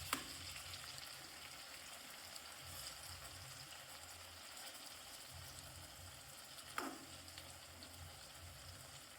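Tomatoes and onion fry in a pan for a village-style chutney, giving a steady, faint sizzle that runs throughout, with one brief knock near the end.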